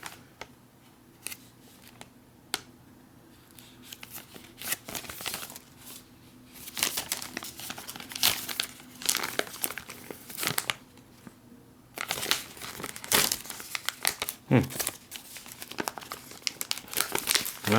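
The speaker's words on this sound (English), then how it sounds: "Flameless ration heater, you just tear the top off here." Crinkly plastic and foil of a flameless ration heater pouch being torn and crumpled at the top for an MRE beef stew, close and sharp, in irregular bursts of rustling across several seconds with no speech.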